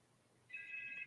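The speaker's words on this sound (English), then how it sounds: "Sorry, that was my phone." A mobile phone rings partway through, a steady bright electronic tone starting about halfway in and holding to the end, moderately loud over a quiet room.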